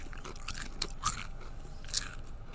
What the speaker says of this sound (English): Big old crunch.